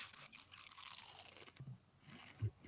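Crunchy chewing close to the microphone, a steady run of crisp bites and grinding with a louder crunch near the end, no talk.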